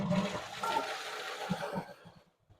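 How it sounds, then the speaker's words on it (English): A household toilet flushes after its water supply valve has been shut off, a loud rushing swirl that fades into gurgles and trickles as the bowl drains, with no voices. "Turn off the valve and flush the toilet"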